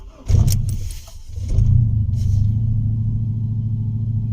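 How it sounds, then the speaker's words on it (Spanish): A car engine cranks with a couple of sharp starter bursts, catches and settles into a steady, close, loud idle rumble that continues alone. "Lo primero va a ser encender el auto."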